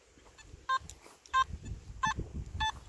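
A Simplex metal detector with a Hot Rod coil gives an unsteady target signal: four short, separate electronic beeps in an uneven rhythm instead of one steady tone, heard alone over low background noise.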